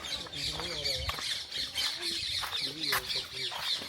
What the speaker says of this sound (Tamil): நிறைய கிளி போகுது